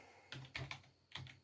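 Computer keyboard typing while entering commands on a game server, heard as three short bursts of clacking keystrokes in quick succession, close and fairly quiet, with no voice.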